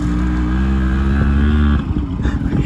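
Four or five motorcycles ride together, making a loud, steady engine drone close by that holds throughout and turns rougher and more uneven near the end.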